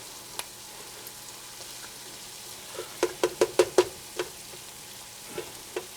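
Minced garlic and a chopped onion fry in a pan with a steady low sizzle, broken by a quick run of sharp clicks and taps, like a utensil stirring against the pan.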